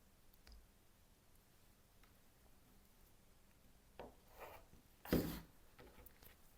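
Quiet crunching cuts through quilting fabric as strips are trimmed, with a couple of soft clicks and one louder, sharp cutting stroke near the end amid near-silence.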